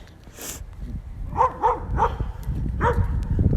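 A dog barks loudly and close by, giving about four sharp barks in uneven succession over background rumble, with no speech.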